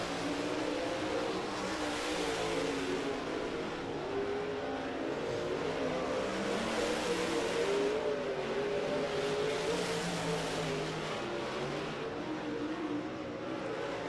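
Race cars at Muskingum County Speedway drone steadily for the whole stretch, a continuous blend of engines from a few cars circling, with the pitch rising and falling slightly as they pass and no voices over them.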